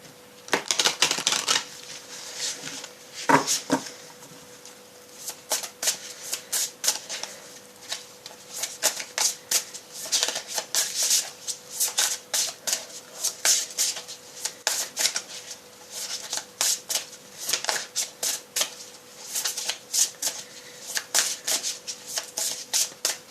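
A deck of oracle cards is shuffled by hand, giving repeated crisp riffling bursts and soft taps, close and quiet, in an uneven rhythm.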